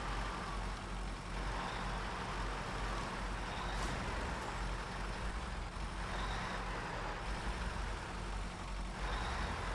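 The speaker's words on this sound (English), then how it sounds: "Look at me, just wheel spinning." Truck wheels spinning in the SnowRunner video game, British Columbia map: a steady, loud engine drone with broadband wheel churn running continuously and unchanged throughout, with no voices.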